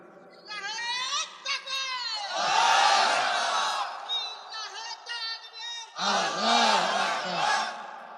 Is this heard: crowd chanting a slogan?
yes